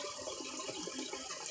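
A cold-water tap pours over eggs in a sink, producing an even, continuous rushing hiss at close range with no talking.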